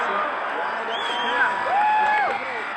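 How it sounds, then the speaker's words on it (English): A hockey arena crowd in a Minnesota Wild versus Edmonton Oilers playoff game cheers and whoops, a loud, steady roar with a few whistles rising above it, under a commentator's voice. "The crowd's getting amped."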